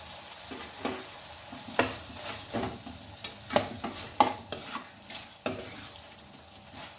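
Chicken liver frying in a pan as fresh coriander leaves go in, with soft sizzling and a series of sharp scraping stirs and clinks spread across the clip, close and moderately loud.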